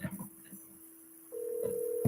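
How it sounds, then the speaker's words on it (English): Phone tones sound as a call is placed, a low steady tone joined by a higher one partway through, faint and close, with a brief voice at the start. "So we are going to give Tom a call"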